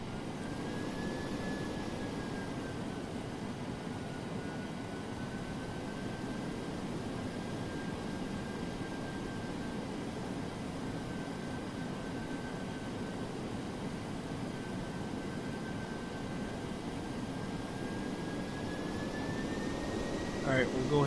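Jet engines of a DC-8-73F freighter in the FSX flight simulator on a rolling takeoff, a steady broadband roar with a thin sustained whine running throughout, rising slightly at the end.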